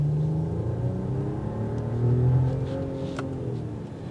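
A 2022 Mercedes-Benz S500 sedan with EQ Boost accelerates from a stop on a road, its engine note rising steadily and rumbling loud and close, with slowly climbing tones and a brief rev spike.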